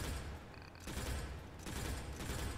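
Rapid gunfire from a vehicle-mounted weapon in the combat game Crossout, loud and dense, with a short lull before the shooting resumes and continues to the end.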